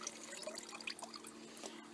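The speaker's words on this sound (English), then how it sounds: "just very lightly dip it into the water and drain off the top material" Water draining off a gold pan while panning, quiet trickling and small drips over a faint steady hum.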